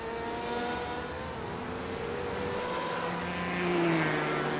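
Race car engines roar steadily at Monza in a racing video game, several cars droning together with pitches rising and falling through a straight, loud and continuous with no talk.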